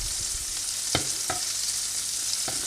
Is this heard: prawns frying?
yes